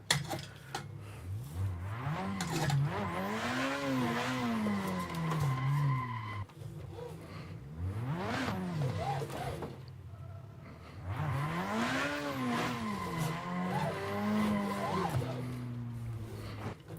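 A car drifting through a whole practice track with a new driver at the wheel, tires squealing in long rising and falling skids over a steady engine drone, in three sustained passes.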